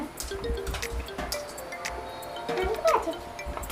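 Liquid falls drop by drop from a coconut in a home setting, a few soft close drips and small splashy clinks over a light background murmur, with a voice briefly speaking nearby.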